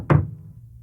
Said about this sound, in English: Soon he heard a knock at the door.